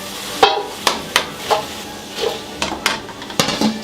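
Food fries in a deep fryer as a skimmer clinks and the basket is shaken, giving repeated sharp metallic taps and scrapes at a loose rhythm over a steady background sizzle, close by.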